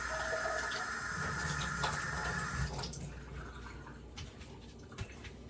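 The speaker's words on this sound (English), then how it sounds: "I'm running the cold water, you guys." Cold water pours steadily from a kitchen tap, a continuous broadband rush that eases slightly partway through, with a small splash or knock near the end.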